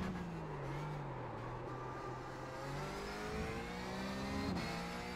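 A Porsche 911 GT3 race car engine in iRacing drones continuously with rising and falling pitch through gear changes and corners, loud and close, with no talking.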